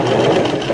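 A sewing machine runs a top stitch along a serged shirt edge, giving a steady, close mechanical whir with a rapid needle chatter throughout.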